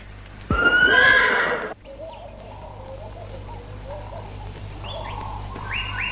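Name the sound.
horse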